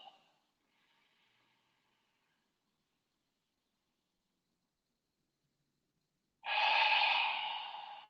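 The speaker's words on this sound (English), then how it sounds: "Look at the belly rise and fall with every inhale and exhale." Deep breathing during a yoga session, one short breath at the start, then quiet, then a long, loud, airy exhale up close that slowly fades.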